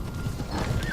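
Horses in the video game BFME 2 battle, a busy layer of hoofbeats clip-clopping with faint whinnies mixed in, moderately loud and continuous across the moment.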